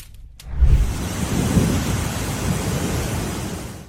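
A thunderstorm rolls over a cornfield in southeast Iowa: a deep, steady rumble of thunder starts after a brief quiet moment and holds loud and continuous, mixed with a wash of rain-like noise.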